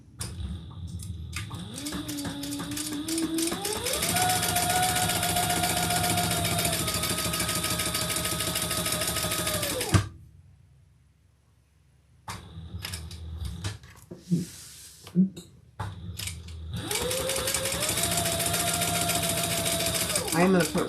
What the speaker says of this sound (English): Now we're going to stitch down the sides and across the bottom and up the other side.